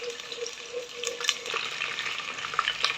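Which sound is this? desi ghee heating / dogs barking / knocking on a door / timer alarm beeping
desi ghee heating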